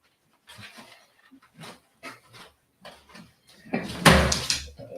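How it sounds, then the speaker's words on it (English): A dog gets into household garbage, making a string of short rustles, sniffs and pants, then a louder clattering burst of rummaging and knocking near the end. "my dog again is getting into the garbage"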